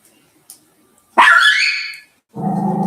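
A dog gives a single loud, close bark-whine that trails off, then a second harsher bark-growl begins after a brief pause, with faint clicks beforehand and no talk.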